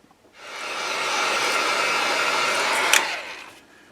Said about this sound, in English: now I'm going to go ahead and take the heat gun. I'm going to dry this really well